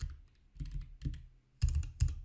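JavaScript code is tapped out on a computer keyboard in a few quick clusters of clicky keystrokes, close and fairly crisp, with the last bursts louder.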